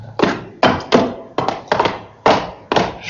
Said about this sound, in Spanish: abrir la puerta de la cripta, chirriando espantosamente sus goznes de hierro